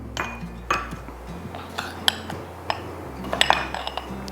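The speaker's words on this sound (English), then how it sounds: "Now we're gonna put it in the jar." A homemade scrub mixture is spooned into a glass jar, with close, light clinks and taps of a spoon on glass and some scraping, spaced irregularly across a quiet background.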